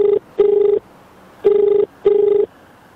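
A telephone ringing back on an outgoing call, with two pairs of short, loud, steady electronic tones separated by a pause, clean and close with no talking.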